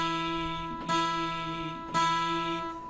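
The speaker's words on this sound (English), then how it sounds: "it's playing an E 4 times," An electric or acoustic guitar picking the note E, with two clear plucked attacks ringing over a sustained tone, close and alone.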